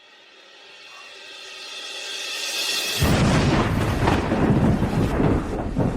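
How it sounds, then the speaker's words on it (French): A low rumble swells for a few seconds, then a loud crack of thunder breaks into a long, heavy, roaring roll that sounds like a storm close overhead. "Pourquoi y a-t-il soudain du tonnerre?"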